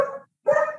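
A territorial female puppy barks at a knock on the door, two close, loud bursts separated by a brief pause, sharp and yappy in tone.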